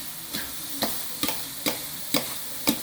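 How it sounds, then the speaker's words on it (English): Mushrooms sautéing in olive oil on a home stovetop, heard as six evenly spaced stirring scrapes over a soft, steady pan sizzle, close and moderately quiet, with no talking. "Start to saute the mushrooms up"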